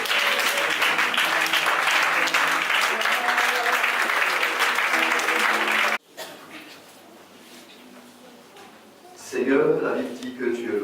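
A church congregation at a Saturday worship service bursts into loud, sustained applause acclaiming the Lord for about six seconds, then a quieter stretch follows as a voice begins speaking.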